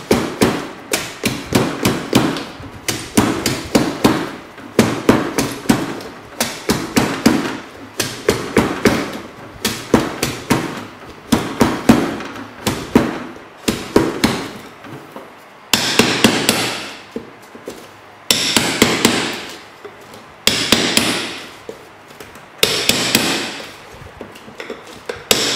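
The contents of a 6-inch firework shell are rammed down firmly, producing a long series of sharp, loud, close thuds and knocks in rapid irregular bursts, with heavier ringing blows toward the end.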